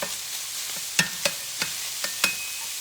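Sausage browns in a pan for sausage gravy, a close sizzle broken by several sharp scraping clacks as a utensil stirs and breaks up the meat.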